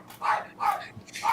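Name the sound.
dogs barking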